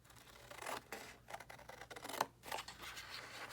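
Scissors snip through paper to cut out a craft journal tag, a few quiet, close crisp cuts separated by short pauses with light paper rustling.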